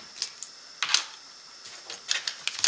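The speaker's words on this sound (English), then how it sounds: "What we're going to do now is cut a little notch out of the top" Scissors cut a small notch into the top edge of a paper pop-up card: a few crisp, close snips in quick uneven bursts, with quiet gaps between them.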